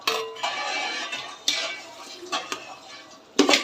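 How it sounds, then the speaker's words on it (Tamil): A spoon stirs tomatoes and green chillies into biryani masala in a pan, making soft scraping with a few sharp metallic clinks against the pan, fairly quiet and close. "இப்போ நல்லா கிளறணும்."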